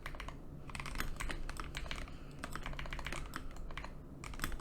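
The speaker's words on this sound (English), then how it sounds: "if I can type" Steady rapid clatter of computer keyboard keys being typed, close and continuous with brief pauses, no voices.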